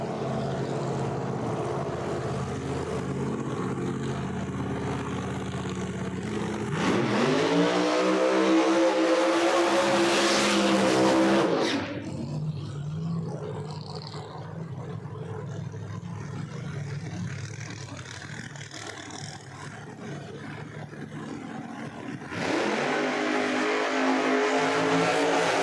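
Supercharged no-prep drag race cars roar at a No Prep Kings event at New England Dragway, a loud, steady engine drone that swells into harsh, revving bursts twice, heard from trackside.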